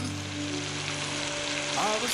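Beef pieces brown in an uncovered Dutch oven, giving a steady, close sizzle and fry crackle throughout, with a brief scrape or stir near the end.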